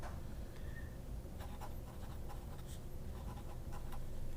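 Dip pen nib scratching across paper while writing, a steady soft scrape with small ticks and quick strokes, close and quiet, with no voices.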